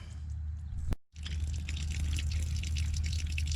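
Water spraying out around a flexing faucet connector during a home plumbing fix, a steady close hiss with low rumble, briefly cut off near the one-second mark before the spray resumes.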